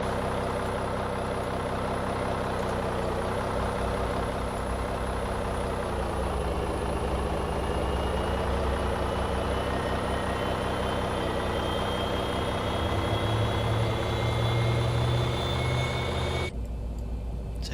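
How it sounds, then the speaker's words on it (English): Boeing 737 engine number 2 spooling up during start in the X-Plane flight simulator, a steady low turbine drone with a rising whine that swells near the end and then cuts off abruptly. "Right, starting engine number 2."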